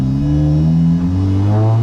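A stripped, caged Honda Civic Si FE1 race car engine revs loud and close, a steady harmonic drone whose pitch climbs and shifts, with no voices over it.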